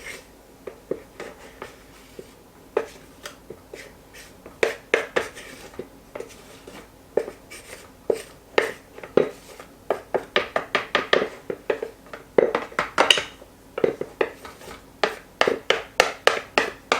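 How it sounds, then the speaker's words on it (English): Flour and cocoa mixture being worked into chocolate cookie batter in a bowl, a utensil scraping and knocking against the bowl in quick repeated strokes, close and busy throughout. "Now I'm going to add that flour and cocoa mixture."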